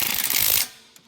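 An impact wrench tightening brake parts on a car gives one loud, rapid, hammering burst lasting just over half a second, then cuts off into near silence.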